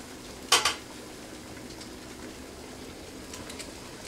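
Glass canning jars of homemade grape jelly are lifted out of a hot processing pot, giving two quick, close glassy clinks in a row, followed by a quiet stretch with only faint background noise.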